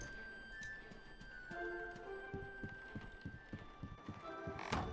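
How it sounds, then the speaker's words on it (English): Steady, evenly paced footsteps thud in a video game, Dreams in the Witch House, low and muffled over a faint ambient hum, with no talking. "Did I hear footsteps?"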